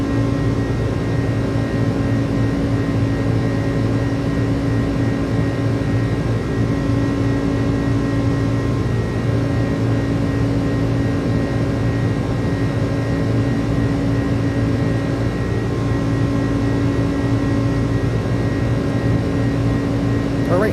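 Steady, loud engine drone from an iniBuilds A300 airliner accelerating in its climb in Microsoft Flight Simulator, an even hum with tonal whine that holds throughout, with talking faintly underneath.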